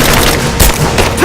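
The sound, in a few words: gunfire from Rise of the Tomb Raider video game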